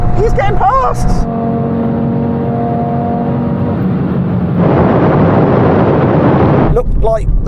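Tuned Audi RS3 and rival hot hatches and coupes accelerating hard in a drag race, loud continuous engine roar rising in pitch through the gears, with people talking excitedly over it at the start and end.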